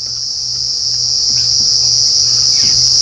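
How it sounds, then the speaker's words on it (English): Dense, steady high-pitched insect chorus from a marula tree at night in an African game reserve, loud and continuous throughout, with faint low engine-like hum beneath and no voices. "how much noise these tiny insects can make?"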